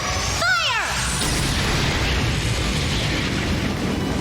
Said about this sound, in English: Orbital Laser, fire!